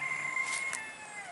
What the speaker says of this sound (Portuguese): Ó, galo fazendo parte do vídeo, gente.